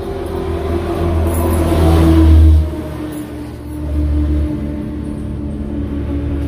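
A tricycle motorcycle engine runs steadily close by, its low rumble rising in a brief rev, dropping, then surging again before settling.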